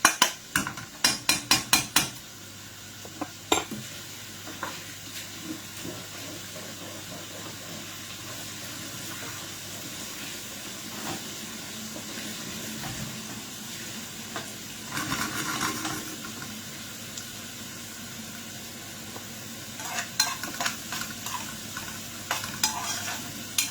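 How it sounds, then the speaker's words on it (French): Onions fry in a pan with a soft, steady sizzle, broken up at the start by sharp clatters and taps of a utensil and by occasional stirring scrapes later on. "Je fais mes oignons là"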